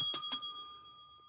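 Two bright metallic bell strikes in quick succession, a ding-dong with long sustained ringing tones that fade out slowly into silence; clear and alone, with no talk.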